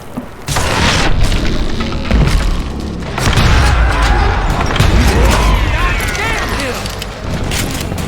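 Dynamite blasts in Call of Juarez: Gunslinger, loud heavy booms rolling into sustained rumbling and debris, with a voice talking over the din.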